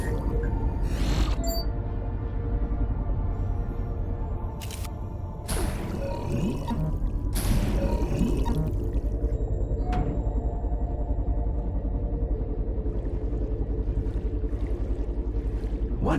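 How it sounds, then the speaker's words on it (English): Underwater geyser in the VR game Time Machine VR, pressurized water superheated by magma erupting as a deep, continuous rumbling roar with bursts of bubbling surges and faint whale-like calls over a steady low drone. "Watch that geyser. Pressurized water superheated by magma."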